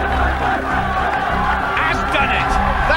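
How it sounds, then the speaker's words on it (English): A large crowd at a strongman competition roars and cheers continuously and loudly, urging on Mariusz Pudzianowski, while a commentator talks over the din. "The crowd roaring him on."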